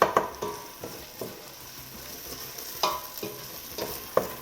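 Ingredients for a Réunion-style fricassee of Chinese pet-sai cabbage sizzle steadily in a pan, with a spoon scraping and clacking at a regular, brisk pace and no talking.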